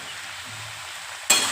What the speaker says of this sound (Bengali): এর মধ্যে এখন আমি মশলাটা দিয়ে দিচ্ছি,